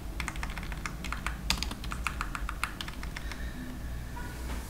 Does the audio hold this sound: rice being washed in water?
no